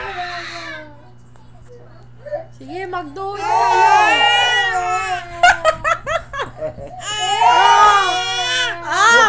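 A young child cries and wails in bursts close by, sobbing between longer howls, while an adult speaks to the child over the crying.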